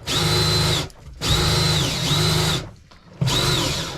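An electric drain-cleaning spiral machine runs with its cable inside a clogged pipe, its whirring motor loud and steady in three bursts separated by brief pauses, the pitch dipping slightly as it works against the blockage.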